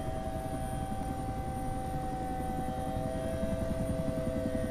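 Steady drone of an aircraft flying in the Prepar3D flight simulator, a continuous engine hum with a faint whine, even and unbroken throughout with no voices.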